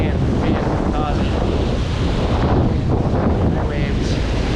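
Ocean waves churned up with sand surge and wash continuously while strong wind buffets the microphone, making a loud, rough roar with no clear breaks.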